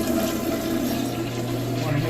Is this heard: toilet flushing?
yes